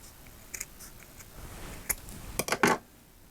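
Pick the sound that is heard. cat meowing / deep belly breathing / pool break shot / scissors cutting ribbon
scissors cutting ribbon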